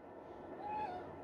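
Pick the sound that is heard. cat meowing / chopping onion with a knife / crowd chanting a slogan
cat meowing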